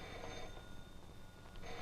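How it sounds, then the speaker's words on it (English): Old 1940s telephone ringing in a room, a faint, somewhat distant ring that swells and fades over a couple of seconds beneath soft background hiss, with no talking. "Gee, there's our phone."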